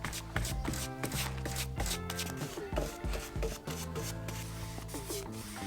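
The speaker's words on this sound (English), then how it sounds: "We then brush it with a wire brush, clean the dust away and then char it again." A wire brush scrubs charred wood on a restored stone farm, making a dense, continuous rasping scrape with rhythmic strokes and brief knocks, close and steady throughout.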